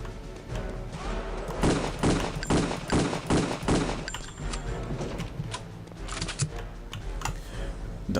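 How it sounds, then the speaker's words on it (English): Mauser rifle fire in Return to Castle Wolfenstein: a rapid run of sharp, loud shots in quick succession, then a few scattered cracks and clicks amid game noise. "The Mauser rifle."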